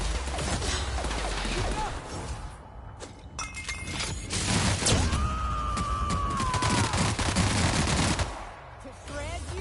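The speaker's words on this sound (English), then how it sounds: "Returning fire!" Rapid machine-gun bursts and sharp gunshots crack through a shootout in the video game The Outer Worlds, dense and loud over several seconds with shattering impacts, a rising whine, and a brief voice shouting.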